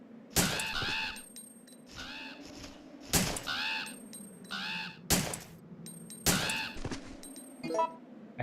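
Crows in the video game Resident Evil 3 caw in repeated harsh bursts, with several loud calls spread through the stretch, over a low in-game ambient hum and occasional metallic pings and chimes.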